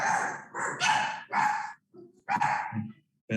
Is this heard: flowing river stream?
no